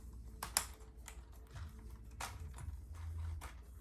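The orange legs of a spider-like budget landing accessory for a DJI Mini 4 Pro drone are unfolded, giving a few quick, close plastic clicks and snaps with faint handling noise between them.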